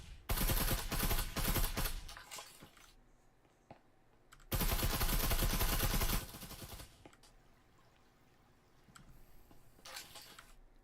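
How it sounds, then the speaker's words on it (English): Automatic gunfire in the VR shooter Breachers, fired blind through walls in a competitive match: two long, loud bursts of rapid shots separated by quieter gaps, with a few scattered shots trailing off near the end. "Blind firing through walls."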